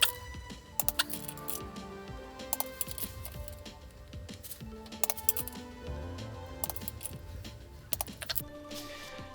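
Sharp metallic clicks ring out while clutch pressure plate bolts are tightened on a Nissan 370Z, coming at irregular intervals over a faint hum, with small tool and part clinks between them.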